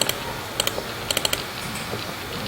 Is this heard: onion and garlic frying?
no